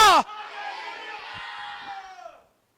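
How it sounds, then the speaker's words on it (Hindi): A church congregation at a fasting and prayer service shouts hallelujah together in one loud, sustained crowd cry lasting about two seconds, following a brief voice at the start. "जोर से चिल्लाकर प्रभु से बोले हालेलुया!"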